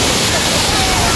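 Steady broadband rush of the Jangkar waterfall in Lundu, Sarawak, a dense continuous roar of falling water filling the scene at close range.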